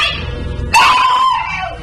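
A sudden loud scream bursts in after low murmuring, a sustained shrill cry that holds for about a second before fading, set in a tense alley scene of a 1949 radio detective drama.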